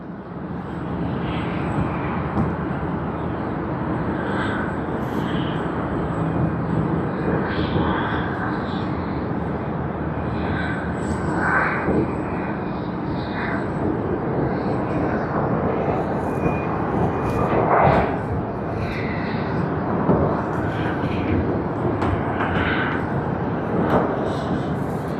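Airbus A350 airliner landing at snowy Tokyo Haneda Airport, a loud, sustained roar of jet engines that holds steady throughout, with a faint voice underneath at times.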